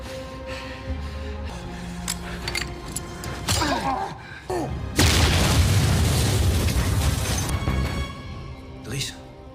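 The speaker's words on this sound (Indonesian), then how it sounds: "giliran bos mafia ini dihabisi menggunakan granat tangan yang disumpalkan ke dalam mulutnya" A hand grenade explodes in a mafia film scene with a loud, sudden boom that rolls into a long, noisy blast and debris rumble, preceded by tense film sounds and a voice speaking.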